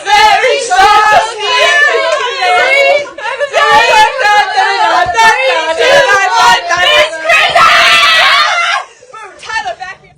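Two people scream loudly and sing over the top of a Christmas song, shrill overlapping vocals that run almost continuously before dropping away near the end.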